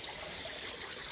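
Water rushing over a small weir and through its overflows at a cabin water supply, a constant close hiss of broad, even flowing noise with no pauses and no talking.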